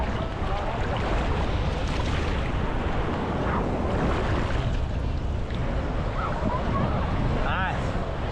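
Sea waves break and wash at a beach, a continuous loud rush of surf with strong wind buffeting the microphone close by.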